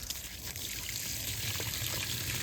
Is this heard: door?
no